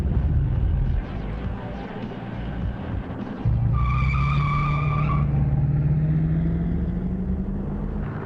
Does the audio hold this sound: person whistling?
no